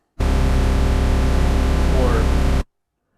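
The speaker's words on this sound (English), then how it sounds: "Put it out of tune, you get that warble." TAL-NoiseMaker software synth with detuned oscillators, a loud sustained buzzy tone with a slow warbling beat, starting and stopping abruptly after about two and a half seconds.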